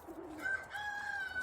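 A single bird gives a soft, drawn-out cooing call, fairly close and clear against quiet outdoor background.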